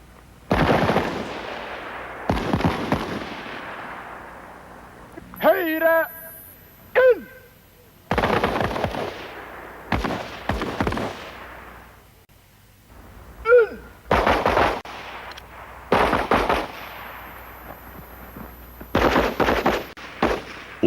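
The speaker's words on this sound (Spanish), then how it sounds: "se examina la puntería de los soldados con pistolas y fusiles automáticos" Soldiers fire pistols and automatic rifles on a marksmanship test range while moving: sharp, loud shots and short bursts ring out in irregular clusters, separated by brief gaps and some faint background noise.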